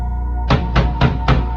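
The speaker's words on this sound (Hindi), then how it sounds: "तभी दरवाजे पर खटखटाने की आवाज हुई।" Four even knocks on a door for a horror story, loud and close with a hollow thud, spaced evenly over a low steady drone.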